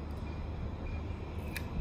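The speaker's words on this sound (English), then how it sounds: "exactly the same as a normal Victorinox penknife pair of scissors, but they slide out completely" Victorinox penknife scissors slide out of the handle with a brief, faint metallic scrape, close up and alone.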